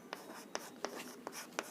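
Hand-writing of math working, likely pen on paper, comes through as five crisp, evenly spaced scratchy strokes against quiet, close and distinct, with no talking.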